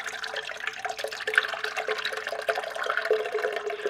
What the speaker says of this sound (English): We're going to add 4 cups of buttermilk.